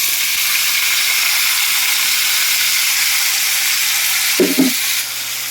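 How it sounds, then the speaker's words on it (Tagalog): Beef meat for pinapaitan dropped into a hot pan, giving a strong, even sizzle and frying hiss that holds steady, with a brief clatter of stirring near the end. "Ngayon, ilagay na natin itong ating pinapaitang laman ng baka."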